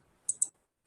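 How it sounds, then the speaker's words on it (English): Two crisp, close clicks of a computer keyboard key, the F7 key pressed in quick succession, standing alone in near silence. "you just spell check by clicking F7 button from the keyboard"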